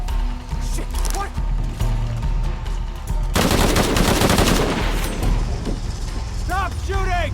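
Sustained gunfire in the video game Shadow of the Tomb Raider, a loud, dense rattle of rapid shots that swells into a heavy continuous barrage halfway through, with game voices and effects mixed in.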